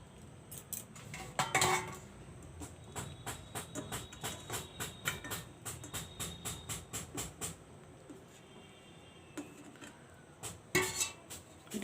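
Steamed chicken momos being lifted out of a steamer onto a plate, a run of rhythmic metallic clinks and taps of utensils against cookware, close and moderately loud, with a few louder clatters.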